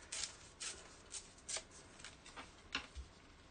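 A planner card being torn off by hand, a string of short ripping bursts close to the mic at an uneven pace over quiet room noise.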